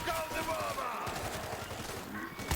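Gunfire in the zombie shooter World War Z, a dense run of shots and bursts mixed with game noise under steady talk from players.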